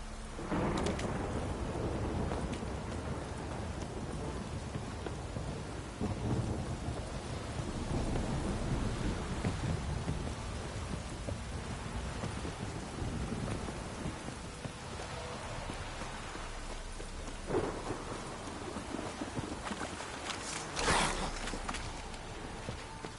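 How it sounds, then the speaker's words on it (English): Heavy downpour roars steadily and loudly throughout, with rumbles of thunder rolling underneath and a few sharper cracks and knocks standing out near the end. "This downpour's a bastard, it is."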